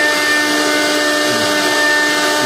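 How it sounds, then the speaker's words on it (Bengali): An automatic cutting machine running on its own, a loud, continuous mechanical whine with steady tonal hums that stays constant from start to finish, with no voices heard. "এই দেখেন কি সুন্দর মেশিন, মানুষ বাদেই কাজ হচ্ছে"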